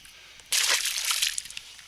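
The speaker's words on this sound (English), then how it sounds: "We're going to put him back in the water and see if we can get another." A caught fish, landed on a copper crawl jig, is let go back into the water with a sudden close slosh and splash, followed by dripping and trickling water that fades out.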